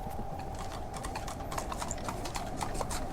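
Hooves of a horse pulling a cart clip-clop on hard ground in freezing weather, a steady, even trot of crisp, moderately close beats continuing throughout.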